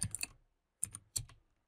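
Brief bursts of computer keyboard typing, a quick cluster of keystrokes followed by a pause and two more short clatters, close and fairly quiet with no talking.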